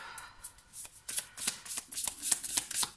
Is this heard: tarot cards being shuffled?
yes